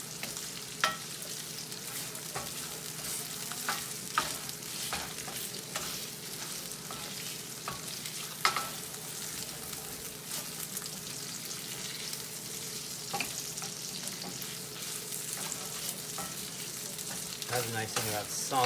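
Sausage frying in a cast iron pan, a steady close, loud sizzle of spitting grease with occasional sharp pops and utensil scrapes while stirring, making gravy for biscuits.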